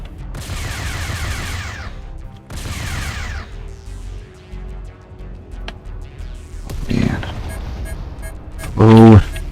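Weapons fire in the space combat game Freespace 2, several bursts of rapid laser-like shots with pulsing tones and electronic effects, loud and close, with a voice talking over it.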